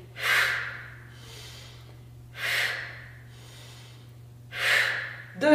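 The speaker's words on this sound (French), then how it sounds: "on veut expirer, inspirer" Three strong, breathy exhalations at a steady rhythm, about two seconds apart, with softer inhales between them, close to the mic during an abdominal workout, over a constant low electrical hum.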